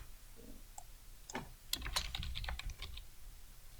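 Keys clatter on a computer keyboard in a short burst of typing, sparse taps at first and then a quick flurry of crisp, close clicks before trailing off.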